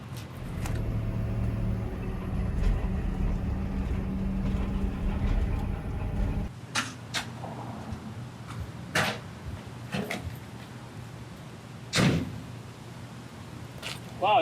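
An armored police rescue vehicle rumbles loudly as it drives for about six seconds, then the engine noise drops away, leaving clanks, knocks and rattles inside the cab with faint voices.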